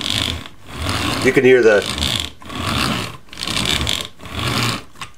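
Rubber treads on a Generations Combiner Wars Armada Megatron toy rolling, giving a mechanical ratcheting whir in several short bursts separated by brief pauses, close up, with a voice speaking briefly in the middle.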